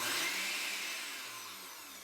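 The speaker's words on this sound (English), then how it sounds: "So I'm just going to run the process in the blender for a little bit" A blender grinds ingredients for homemade peppermint patties into a fine powder. Its loud, continuous motor whir is close by and fades slightly toward the end.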